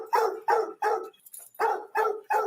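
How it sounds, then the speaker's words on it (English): A single dog barks six times in a steady rhythm, each bark close and clear, with a short gap of faint sound midway and no talking. "Blue Boy's barking."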